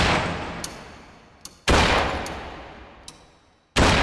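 Gunshots in a basic shooting video game ring out as two loud, sharp blasts about two seconds apart, each decaying slowly, with faint small pops between them.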